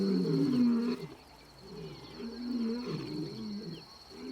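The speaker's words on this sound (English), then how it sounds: "The bachelors' challenging roars stop the pride males in their tracks." Bachelor male lions at Nakuru National Park issuing challenging roars, deep, moaning calls somewhat distant and subdued, swelling and fading in two or three bouts over a faint steady high hiss.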